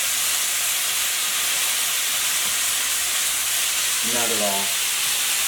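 Cabbage medley sizzling in a hot skillet with little oil, a loud, steady hiss of frying that runs throughout, with a man's brief words heard over it near the end.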